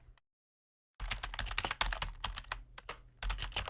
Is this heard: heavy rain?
no